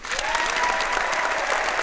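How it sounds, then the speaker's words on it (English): A crowd claps steadily and densely throughout, a sustained wash of applause with no pauses. "Applause."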